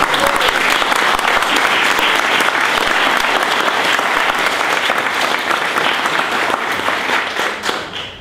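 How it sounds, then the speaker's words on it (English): A crowd claps steadily at the signing of a health care bill, a dense, sustained round of applause from an audience indoors that holds at full strength and then begins to thin toward the end. "Let's give these three a hand"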